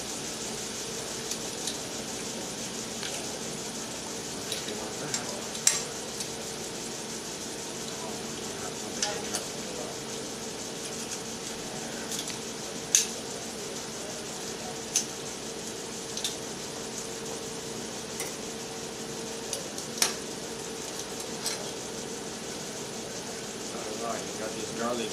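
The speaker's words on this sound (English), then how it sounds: "You got this garlic in the middle there. Cook it in hot oil." Garlic and sofrito sizzle steadily in hot oil for arroz con gandules, a constant close frying hiss broken by small pops and utensil taps while someone talks over it.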